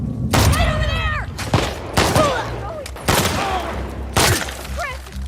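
Video game gunfire as enemies are shot in The Last of Us Part 2: four loud bursts of shots, each followed by ringing, echoing tails, with shouting voices between them.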